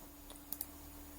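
A computer mouse clicks twice in quick succession, crisp and close, against a quiet background with a faint steady electrical hum.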